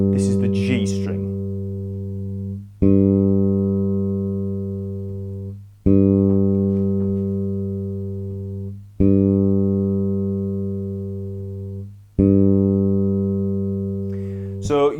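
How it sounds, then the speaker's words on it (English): A bass guitar's G string is plucked repeatedly for tuning, five long sustained notes ringing out at steady intervals of about three seconds, each decaying slowly, with a brief voice at the start and end. "you want to tune up to the sound of my string, okay? So this is the G string."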